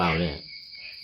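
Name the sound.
frogs croaking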